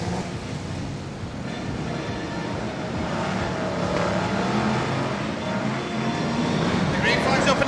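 BriSCA Formula 1 stock cars roaring away at the start of a race at Sheffield, a dense, continuous rumble of many engines that builds slightly, heard under a commentator's voice.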